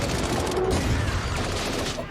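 Dense, sustained gunfire from a Westworld shootout, a continuous loud barrage of shots and clatter filling the whole moment with no clear gaps.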